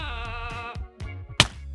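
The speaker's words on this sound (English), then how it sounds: "the third and final mob that we have available to us today is the goat" A goat mob in Minecraft Bedrock Edition gives a wavering, nasal bleat up close, followed after a short pause by a sharp thump.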